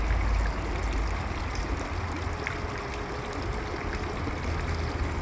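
The pump of a Stingray RC submarine runs on the surface, churning water in a continuous trickling, burbling wash over a low motor hum, steady and close throughout with no talk.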